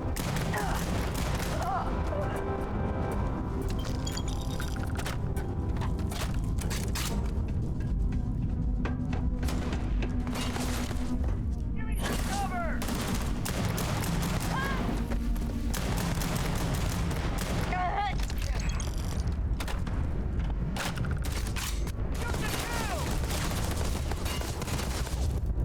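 Gunfire in the video game Starfield pops and thuds intermittently through a long, noisy combat stretch, fairly quiet in the mix, with scattered bursts and someone talking over parts of it.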